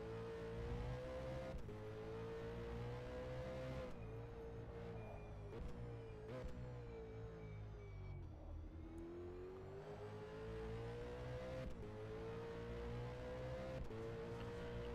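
V8 race car engine at Bathurst in a sim racing video game, a steady droning roar that climbs and dips through gear changes, heard from on board and fairly faint, with no talk over it.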